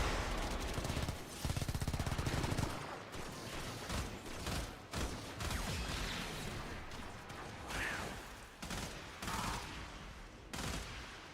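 Rapid bursts of pistol fire from Cora's blaster in the game Warframe, crackling shots in quick succession mixed with whooshing effects and mechanical clicks, fairly loud and continuous.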